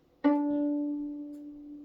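A single sustained violin note rings out clearly on the D string, steady and resonant, fading gently over nearly two seconds with nothing else around it.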